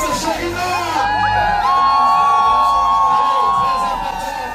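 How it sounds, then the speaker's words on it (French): A crowd at a baptism and first communion celebration shouts, whoops and cheers loudly for a girl's 100th-day birthday. The voices form a sustained, dense roar that swells and holds, with children's shrieks mixed in. "Est-ce qu'on peut crier pour les 100 ans sur terre de Chérina?"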